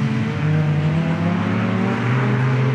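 Rallycross cars racing at Pembrey during the 2017 British Rallycross Championship, including a rear-wheel-drive 3-litre V6 Clio, braking for a hairpin; steady, loud engine drone with shifting pitch from several cars running close together, no voices.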